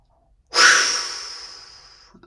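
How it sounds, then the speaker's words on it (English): A single deep breath during a mudra breathing exercise, one long airy rush of air that starts abruptly, swells close and clear, then slowly tapers off over about a second and a half. "Inhale."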